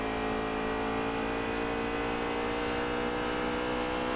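A NASCAR race car engine in the NASCAR Heat 3 video game holds a constant high-pitched whining drone through turns three and four, loud and alone.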